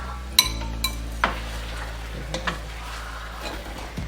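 A metal lid goes onto a pot of braised pork and eggs on low heat, with a few sharp clinks and clatters of cookware spread across the clip over a steady low hum.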